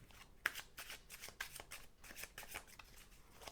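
Osho Zen Tarot cards are shuffled close up, giving a quiet sequence of quick riffling bursts with a sharp snap early on.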